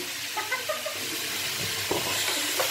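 Adobong labong, bamboo shoots with onion, ginger, garlic and soy sauce, is stirred in a pan. Soft sizzling runs under faint scraping and clinking of the utensil at a quiet, close distance, with no talk.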